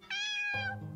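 Cat meowing in a horror adventure video game: a single clear, drawn-out meow lasting about a second, close and alone.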